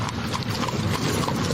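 A horse-drawn carriage passes with steady, brisk clip-clop of hooves on pavement, loud and continuous, with a faint whinny in the background.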